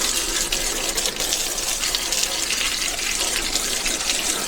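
Water runs continuously while an outdoor garden area is washed down, a steady, hissing gush that stays fairly constant throughout, close by and alone without any talk.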